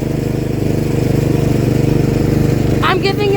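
A riding lawn mower's engine runs steadily and loudly close by, a throbbing, even mechanical drone throughout, with a brief higher-pitched sound near the end.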